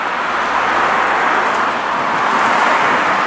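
Cars stream by on a road beside a garden, producing a steady, fairly loud hiss and rumble of tyres and engines with no one talking.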